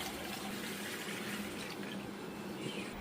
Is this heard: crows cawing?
no